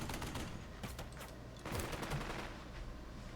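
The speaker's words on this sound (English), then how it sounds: "It's a machine gun." Machine gun fire in the Burden of Command North Africa war game, dense rattling bursts of automatic fire mixed with scattered shots, steady and fairly loud throughout, no speech.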